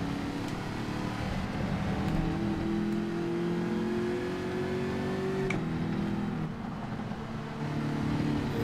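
Group 4 race car from Gran Turismo 7 at Circuit de Catalunya, its engine droning steadily and rising in pitch as it accelerates, one brief shift dip midway, continuous and close with no voices.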